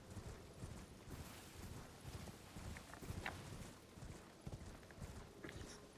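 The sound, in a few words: horse hooves while riding in Elden Ring video game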